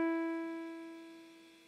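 A single sustained musical note E, the pitch on the bottom line of the treble clef, sounds clean and clear and fades slowly, alone.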